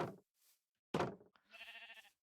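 A video game sheep gives short bleats, with a nasal, wavering harmonic cry near the end. Short thumping knocks come before it, and the clip is quiet overall with silence between the sounds.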